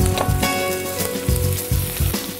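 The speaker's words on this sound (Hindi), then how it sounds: "इसी के साथ मैं इसमें 1 बड़ा प्याज कटा हुआ डाल देती हूँ।" A large chopped onion fries in hot oil in a pan, giving a loud, continuous close-up sizzle broken by repeated rhythmic bursts as it is stirred.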